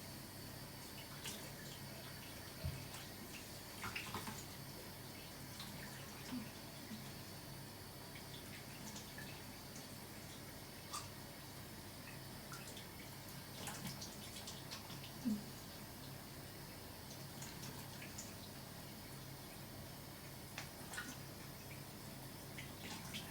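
Quiet, steady rush of water running from a bathroom tap during face washing, with soft splashes and a few small knocks and drips scattered throughout.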